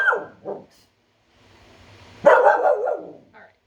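A dog gives a couple of short barks, falls quiet for over a second, then lets out a longer, louder bark that trails off, heard close in a quiet indoor room.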